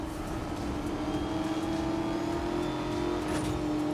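Porsche Panamera engine in Need for Speed Most Wanted holding a steady, droning rev at close range, loud and continuous throughout with no talk over it.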